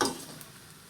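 Pancit canton noodles stir-fried in a pan, a sharp sizzle and scrape at the start that quickly fades into a soft, steady frying hiss.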